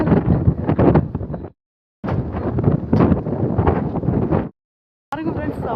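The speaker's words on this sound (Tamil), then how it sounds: "வாவ் செம்மையா காத்தும் அடிக்குது" Strong cold wind gusting at a hilltop viewpoint, loud roaring buffets battering the microphone in long blasts with brief lulls between them, close and dominant.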